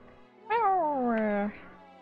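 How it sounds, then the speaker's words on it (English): A single clear meow from a domestic feline in the RPG Maker game Last Word, one drawn-out falling call lasting about a second, close and prominent against a quiet background. "Domestic feline."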